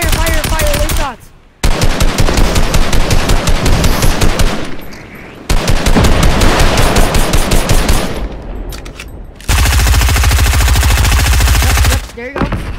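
Rapid automatic gunfire from the video game Fortnite rattles in loud, dense bursts across the clip, with short breaks between volleys and gamer voices talking over the shooting.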